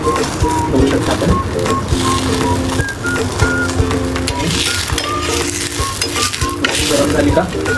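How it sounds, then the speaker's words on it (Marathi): Peanut-stuffed poli flatbread deep-frying in hot oil over a high gas flame, a steady loud sizzle and bubbling with occasional clinks of a utensil, no talk. "आता आपली ही पोळी मस्त डीप करूया."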